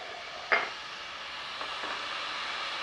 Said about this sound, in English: So first thing we're going to do is cook the onions in a pan like that.